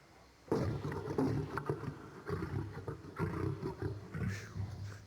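Male lion or tiger at the San Diego Zoo roaring close to the microphone, a series of deep, rumbling, grunting roars that swell and fade in bursts with no speech.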